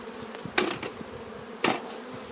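Honey bees buzzing while being moved from a transport nuc box into a full hive, a steady insect drone broken by two sharp knocks of wooden frames or box handling, no voices.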